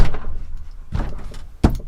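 A Citroen Relay van's sliding door shuts with a loud, solid thunk after a couple of softer rattling knocks, close and dry with no talk.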